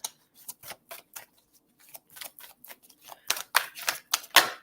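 A deck of playing cards is shuffled in a run of quick, crisp riffling snaps and slaps, irregular and close, growing louder toward the end.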